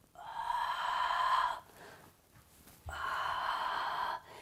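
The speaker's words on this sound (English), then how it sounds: "Take a deep breath in and a deep breath out" Two long, close breaths during a yoga stretch, a deep inhale of about a second and a half, a brief pause, then an equally long exhale, both breathy and steady with no talking.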